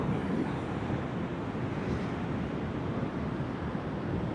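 Ocean waves break and roll in a steady, dense wash of surf at sunrise, mixed with wind buffeting the microphone, continuous for several seconds with no voices.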